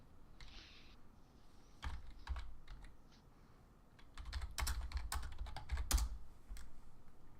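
Rapid bursts of clicking keystrokes on a computer keyboard, close and fairly loud, with short pauses between flurries of intensive typing.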